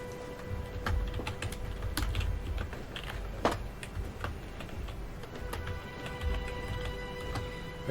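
Fast, steady clicking of keys on a computer keyboard, close and continuous, with a few louder keystrokes standing out.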